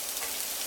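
Minced beef sizzles in olive oil in a pan, a dense, steady hiss of frying close up with no talking.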